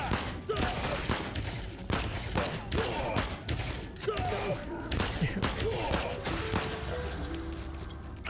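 Rapid, dense gunfire in the Void Bastards video game, with steady bursts of shots over a loud, busy game soundscape throughout.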